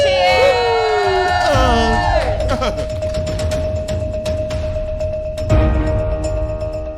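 Loud crowd at a summer music event cheering and whooping, with shrill individual shouts rising over steady roaring applause and babble throughout.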